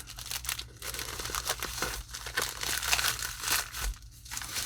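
Packaging for a travel watch roll being opened, with close, busy crinkling and tearing of plastic wrap in irregular bursts.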